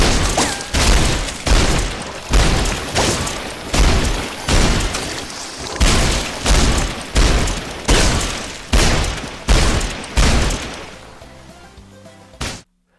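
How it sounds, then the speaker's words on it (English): Gunfire from the virtual reality shooter game Dick Wilde 2 booms out in a steady rhythm, about fifteen loud shots roughly every three quarters of a second, each ending in a short decaying tail, then a final shot after a brief pause. "There are some new gun sounds"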